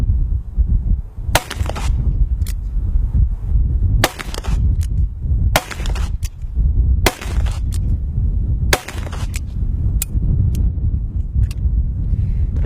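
A .357 Magnum revolver fires about a dozen loud, sharp shots at uneven intervals outdoors, each crack cutting through steady wind noise.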